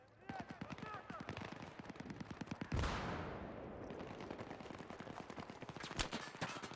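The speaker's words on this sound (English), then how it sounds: "Stop shooting at me." Rapid bursts of automatic gunfire from a video game, dense and continuous rattling shots followed by a heavy explosion-like blast near the middle, with more firing afterward.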